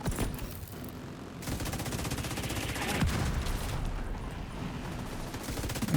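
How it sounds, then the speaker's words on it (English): Autocannon fire in a combat video game amid hostiles and smoke, a dense continuous barrage of rapid shots with booming low thuds, loud and sustained throughout. "The autocannon seems to be firing blind."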